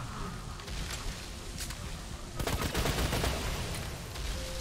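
Rapid gunfire from a gun in a video game, a crackling stream of shots that grows denser and louder halfway through, heard alone without talk.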